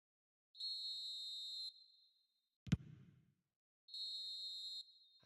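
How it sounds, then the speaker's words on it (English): Referee's whistle in an eFootball match: two sustained shrill blasts, each about a second long, separated by a sharp thud, loud and clear against near silence. "Quite a game, and one that was always on a knife edge until the very final whistle."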